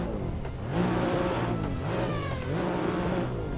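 A race car engine in a racing game revs up and down under throttle at Spa-Francorchamps, with repeated rising and falling pitch sweeps that sound loud and close, with no talking over them.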